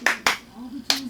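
Three sharp hand claps, spaced irregularly and close up, as applause for a family party game; the middle claps sit over a low steady hum.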